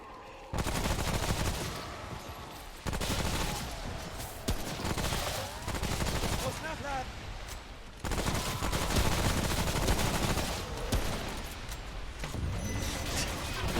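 Repeated bursts of gunfire from the player's weapon in Remnant from the Ashes, loud close shots firing in long sustained volleys with brief pauses and mechanical clatter between them.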